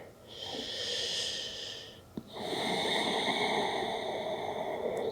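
Slow deep breaths held in a yoga pose, a long airy inhale, a brief click, then a longer hissing exhale, close and steady with no talking.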